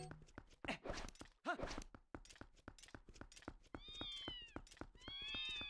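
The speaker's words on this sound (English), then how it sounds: "Cats are here." A cat in The Legend of Zelda: Twilight Princess gives a couple of short meows. They sit among rapid clip-clopping footsteps, and longer drawn-out cries join later over steady game ambience.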